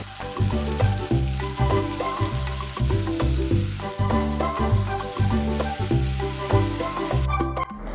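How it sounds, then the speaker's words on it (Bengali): Ginger garlic paste sizzles and fries loudly in a hot pan, crackling continuously, with regular low scraping beats like stirring throughout. "আদা রসুনের পেস্ট দিয়ে এই মশলাটাও খুব ভালোভাবে কষিয়ে নিতে হবে"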